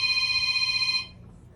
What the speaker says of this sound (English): Guys, his phone's ringing.